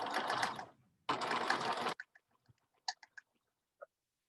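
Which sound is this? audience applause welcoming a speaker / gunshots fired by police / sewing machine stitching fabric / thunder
sewing machine stitching fabric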